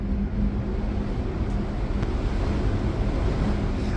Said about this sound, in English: I think the wind makes it worse.